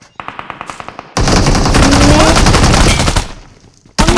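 Mobile shooter video game gunfire: a quick burst of about a dozen evenly spaced shots, then a loud sustained blast of rapid automatic fire that fades and cuts back in at the end.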